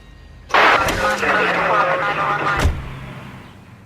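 A car engine cranks and fires up in the L.A. Noire video game, a loud abrupt start settling into a running idle before cutting off, with a voice speaking over it.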